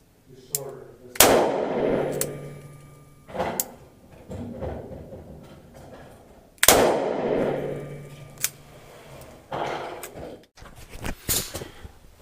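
A Ruger Redhawk revolver fires .45 Long Colt Hornady Critical Defense rounds: two loud, sharp shots about five seconds apart, each with a long ringing decay, and lighter metallic clanks between them.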